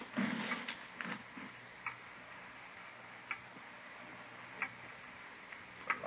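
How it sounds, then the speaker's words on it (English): A loud clock ticks in a room, with sharp, evenly spaced ticks about every one to one and a half seconds over quiet background noise, after a brief rustle at the start. "It's a loud clock, ain't it?"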